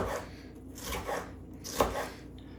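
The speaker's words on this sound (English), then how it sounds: "we'll just chop it really small so it'll kind of disappear" Knife chopping green pepper into small pieces on a cutting board for a tomato-based hamburger soup, a few soft, irregular cuts at close range, quiet, with no talking.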